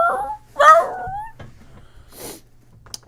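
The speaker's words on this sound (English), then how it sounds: "he has like whisper screams" A sleeping dog that may once have been abused lets out soft whimpers and high, strained squeals. Two short whining bursts are followed by faint breathy sounds in a quiet room.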